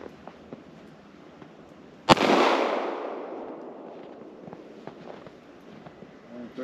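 A single sharp pistol gunshot from a .22 Magnum or .22 Long Rifle handgun cracks out once, loud and close, then rings into a long fading echo across open ground before quiet outdoor ambience returns.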